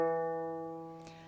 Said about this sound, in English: you're going to tune your E string, and I would like you to tune that to E natural